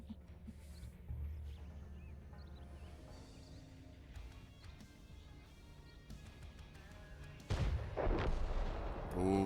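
A high-explosive tank shot in a Calamity tournament video game match lands as a heavy, loud boom near the end, after a stretch of rumbling battle noise with scattered distant gunfire.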